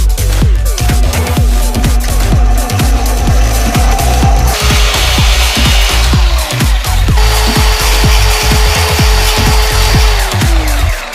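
A power filing machine grinds the cut edges of scooter handlebars, a loud continuous mechanical drone with rapid rhythmic scraping pulses, close up and alone, its pitch shifting slightly as pressure changes.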